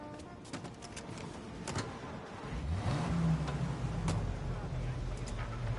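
A car in Mafia Definitive Edition idling and then pulling away, the engine revving up into a steady drone under a conversation between a man and a woman.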